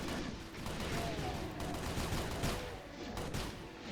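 Rapid carbine gunfire from the Innawoods Doom mod, a dense continuous string of shots with no pauses, loud and close throughout.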